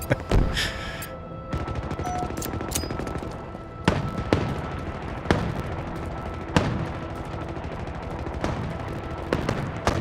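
Sharp gunshots ring out in Halo, spaced a second or two apart over a constant background rumble, with a loud burst of rapid fire at the start; bright, close and punchy.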